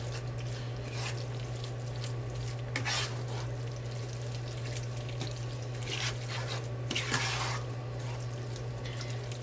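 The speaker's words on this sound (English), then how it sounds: "Get that all mixed in here." Low carb pasta bake ingredients being stirred together in a bowl, steady scraping and mixing with a few louder clattering strokes over a constant low hum, no talking.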